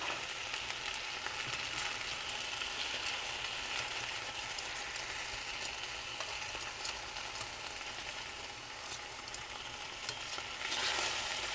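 Chicken sears in hot grease in a pan with a loud, continuous sizzle and crackle, dense and close, holding steady throughout with a slight surge near the end and no voices.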